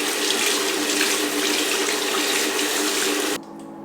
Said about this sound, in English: So I'm just gonna wet this beauty blender.